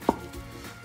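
A single crisp knife chop on a board while preparing salmon and leek lasagne, one close, short strike followed by quiet kitchen room tone.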